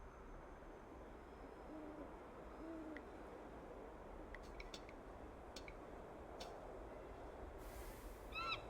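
An owl hoots in the Broken Sword 5 video game, soft hoots sounding faintly over a quiet ambient bed with occasional small ticks and clicks.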